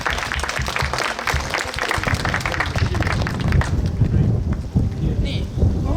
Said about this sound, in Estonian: Plaksutame võlur Liisile.